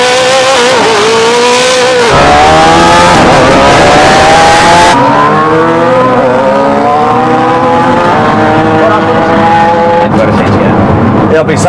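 Koenigsegg Jesko hypercar against a tuned Suzuki Hayabusa motorcycle in a video game drag race, engines howling and climbing through long revving pulls and gear shifts, loud and continuous, with voices talking over part of it.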